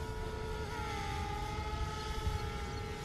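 A DJI Spark drone flying in high wind gives a steady, high-pitched motor whine over a constant rough wind rumble, with no voices.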